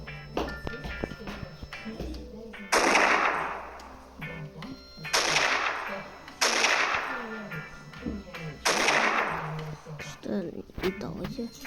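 Gunfire from a Minecraft weapons mod with sniper-type guns: about four sharp, bright bursts with decaying tails at irregular intervals, separated by quieter game sounds and clicks.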